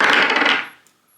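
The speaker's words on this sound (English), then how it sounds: "Jesus, these are heavy dice. Swirling them like this." Heavy dice carved from manticore bone swirled by hand, a dense rolling clatter for about half a second that quickly fades into quiet.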